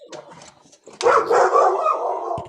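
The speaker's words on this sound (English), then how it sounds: "Must be Toy Warp's doggy we're hearing" A dog barks out at a distance: one short yip early, then a louder, sustained burst of barking and whimpering noise in the second half, with faint background sounds and no clear talk.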